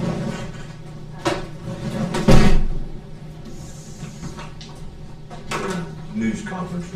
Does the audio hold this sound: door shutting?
yes